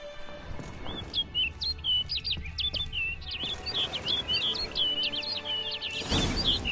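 A bird in a PS4 video game chirps in rapid, high-pitched bursts, repeating continuously over a low ambient bed, fairly loud and close, with no voices.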